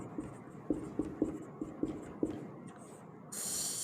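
Chalk or marker writing on a board during a class 10 maths lesson on triangles: a string of short, crisp taps and strokes in uneven rhythm, close by, ending in a brief hiss.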